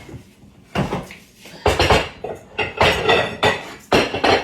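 Kitchen clatter while a mixing bowl is pulled out: a series of loud knocks and bangs of dishes and cupboard contents, irregular and close, with no speech.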